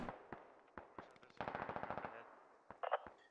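Sustained automatic gunfire from a squad in a military video game: scattered single shots, then a dense rapid burst, then a few more bursts, fairly distant and moderate in level.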